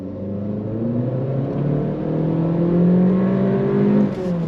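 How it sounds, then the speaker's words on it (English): A 2023 Acura Integra base in automatic sport mode accelerating hard on throttle, the engine note climbing steadily and droning loudly from inside the cabin with no talking. "we're inside this 2023 Integra, and we are gonna go on throttle"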